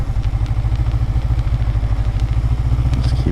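A motorcycle creeps along slowly with the clutch slipped, its engine putting out a steady low, rapid thump with light mechanical clatter, loud and close throughout.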